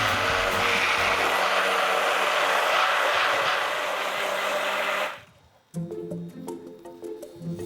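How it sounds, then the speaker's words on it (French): An electric blender whirs loudly and steadily, blending lemon juice, honey and olive oil, then cuts off abruptly and is followed by the clatter of utensils and kitchen handling. "Et on mixe."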